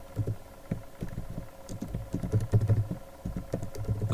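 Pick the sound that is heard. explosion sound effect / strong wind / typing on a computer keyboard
typing on a computer keyboard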